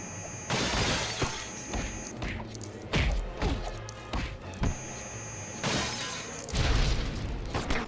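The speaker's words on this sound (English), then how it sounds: "use the sonic suit to shatter these 3 glass tubes on the side of the wall" Glass tubes shattering in a LEGO Batman video game as a sonic suit breaks them, several sharp smashes with crashing debris and thuds spread across the stretch, loud and close.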